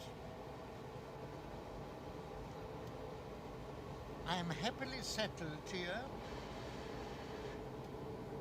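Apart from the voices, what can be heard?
interior of a moving train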